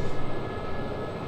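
Steady broadband turbine whine and rotor roar of an SA342 Gazelle helicopter in the DCS World flight simulator, a continuous close, loud engine drone with no talk.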